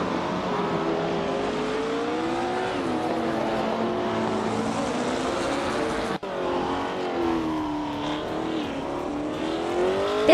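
Engine of a 1966 McLaren M1B race car in a racing video game, a continuous loud revving drone with rising and falling pitch as it shifts through gears, a brief cut midway, no talk.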